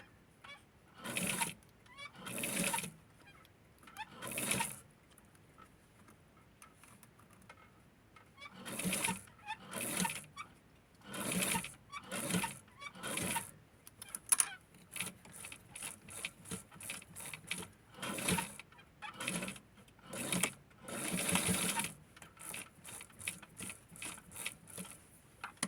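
A sewing machine stitches fabric for a Barbie hat in quiet, irregular bursts of rapid mechanical whirring, each a second or two long, separated by pauses.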